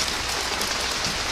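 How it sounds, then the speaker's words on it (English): Steady rain pours onto a vegetable garden planted with lettuce, kohlrabi and beetroot, a dense, even hiss of drops close by with no voices. "As you can hear, the rain has picked up"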